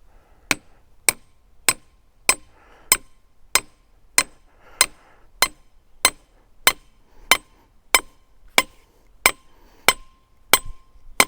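A grounding rod is hammered into sandy ground, about nineteen sharp metallic strikes landing in a steady, even rhythm, loud and close, with no talk.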